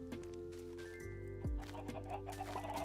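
Chickens in a video game cluck in short bursts over steady game music, with a brief low thud partway through and no talking.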